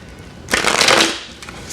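A deck of oracle cards is shuffled in one brisk, close riffle lasting about a second, followed by a faint flick of the cards.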